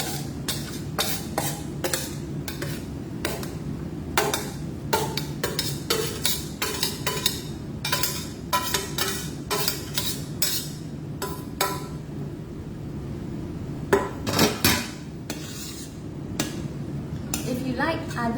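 Spoon scraping and clinking in a pot as cooked grains and vegetables are mixed together for a salad, a steady run of close taps and stirring scrapes over a low background hum.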